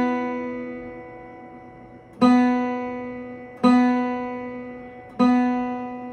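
An open guitar B string is plucked for tuning, three clear, close, ringing notes, each slowly decaying before the next, with a quiet ring already fading at the start and no talking.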